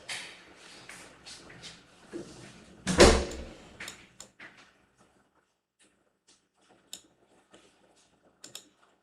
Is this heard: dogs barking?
no